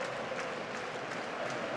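A football stadium crowd at a Germany vs England World Cup qualifier applauds and murmurs as a steady, distant wash of sound, with no single voice standing out.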